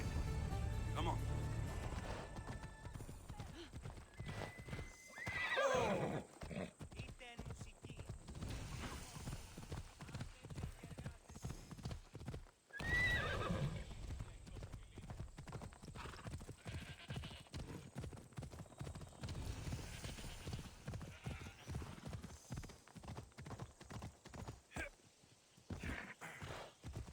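Horse hooves clip-clop in a steady rhythm as a mount is ridden in Assassin's Creed Odyssey, with a neigh near the start, game music and characters' voices talking over much of it.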